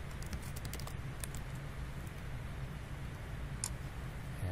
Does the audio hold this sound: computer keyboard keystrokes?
yes